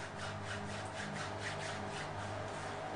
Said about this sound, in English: you will warm your hands by rubbing them together